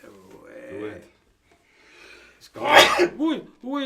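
A person sneezes loudly once in a live studio setting, a sharp burst with a breathy tail, framed by speech-like vocal sounds before and after.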